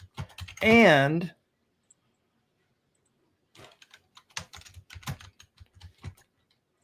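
A computer keyboard is typed on in quick irregular taps, close and fairly quiet, following a short spoken word at the start.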